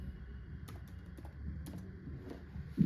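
A date of birth is typed on a computer keyboard, with a handful of crisp keystrokes clicking irregularly over a low hum before a louder thump at the end.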